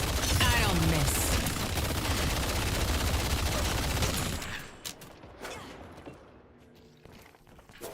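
Dense, rapid gunfire from the video game Wraith Warden Seven rattles loudly for about four seconds, then cuts off, leaving scattered quieter thuds and clicks with a faint voice in the background.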